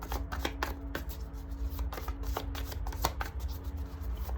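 Tarot cards shuffled for a pick-a-card reading, a rapid string of crisp riffling slaps and flutters up close, going on without pause.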